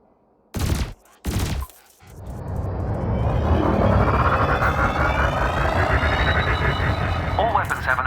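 Spaceship weapons in Elite Dangerous open fire on floating canisters: two short loud bursts, then a sustained, roaring barrage of rapid fire with rumbling engine noise that stays loud to the end.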